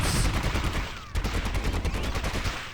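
Small-arms fire in the Warhammer 40,000 shooter Fire Warrior, a Fire Warrior fighting an Imperial Guard Valkyrie, heard as rapid rhythmic bursts of shots with a brief gap midway, close and fairly loud, no talk.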